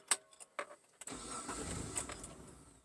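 A 3rd-gen Mitsubishi Montero Pajero engine cranks after a few sharp clicks and catches, settling into a steady, close, low-pitched idle that holds alone to the end.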